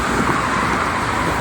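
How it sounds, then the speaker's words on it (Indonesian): Steady, dense roar of busy morning traffic on the Jakarta–Cikampek toll road, a continuous broadband wash of cars, buses and trucks close by with no breaks and no talking. "arus lalu lintas saja ke Cikampek pada kesempatan pagi ini cukup lumayan ramai"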